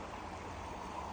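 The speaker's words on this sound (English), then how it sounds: "The water's running here." Stream water running after rains, a steady broadband rush and gurgle with no pauses, moderately near and continuous throughout.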